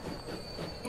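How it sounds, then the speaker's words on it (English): Train arriving at a station platform in a video game, a faint continuous rail rumble with a steady high whine and light wheel noise, no voices. "We have our first train arrive and depart"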